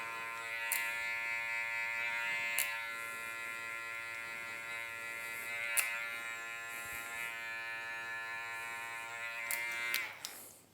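Electric hair clippers buzzing steadily while cutting hair during a barber's burst fade mullet, a constant close whine with several brief sharp snips and bumps as hair is cut.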